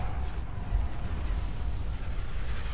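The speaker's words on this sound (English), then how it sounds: "Executors firing on him." Executor star destroyers firing on an enemy in Star Wars: Empire at War, a dense continuous rumble of booming space-battle weapon fire, steady and heavy throughout.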